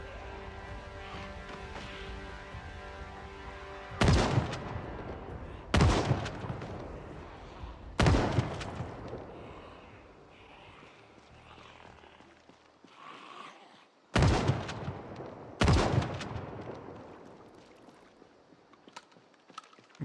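Shotgun blasts in Project Zomboid, five sharp loud broadband bangs spaced a few seconds apart over a steady background bed of game ambience and music.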